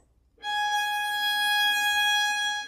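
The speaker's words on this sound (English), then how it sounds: "That's going to be the note G sharp," One long bowed G sharp on violin, played with the second finger on the E string, entering after a brief pause and sustained evenly, close and clear.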